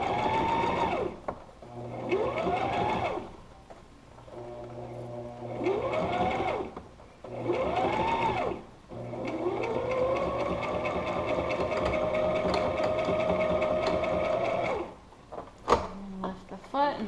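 Sewing machine stitching a homemade fabric face mask, whirring in several short bursts separated by pauses, then one long steady run before stopping with a few clicks and clatters; close and clear, no voices.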